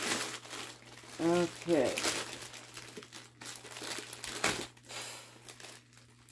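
Plastic packaging of a Sunbeam Centurion 45-31 smoke detector is torn open, crinkling and crackling in bursts over a steady hum, with a few brief spoken words in between.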